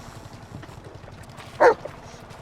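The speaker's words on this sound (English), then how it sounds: "Yeah, good dog." Bullet, a dog companion in the Blair Witch video game, gives a single short bark midway through a quiet, low ambient background, with no voices present.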